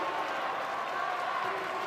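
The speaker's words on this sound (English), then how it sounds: "big cheer, big applause" Spectators at a women's junior world curling championship game applaud and cheer after the final shot, a steady wash of clapping and crowd noise in an indoor arena, moderately loud and even throughout.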